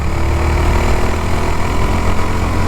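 A Yezdi Scrambler motorcycle engine runs steadily near the microphone, its twin-exhaust note a loud, even, throbbing idle with a dense low rumble and no gaps, heard alone without talk.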